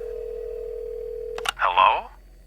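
A telephone gives a steady, continuous dial tone, which cuts off with a click as a call connects. A short burst of voice follows.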